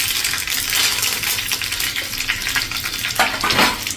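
Curry leaves and mustard seeds sizzle in hot oil, a dense steady crackle with a few sharper spits near the end; no one speaks.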